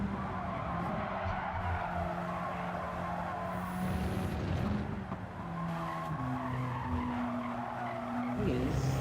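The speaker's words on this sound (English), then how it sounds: "I still haven't dialed down the tire squeal on this car" Race car tires squeal and skid continuously in a sim racing game, long wavering screeches layered over steady engine drone, loud and close with brief shifts in pitch, voices faintly underneath.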